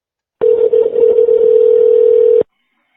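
A loud, steady telephone dial tone on a recorded phone call, one continuous hum lasting about two seconds that starts and stops abruptly, with nothing else heard.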